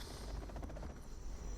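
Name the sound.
helicopters being shot down by quad cannons, C&C Zero Hour video game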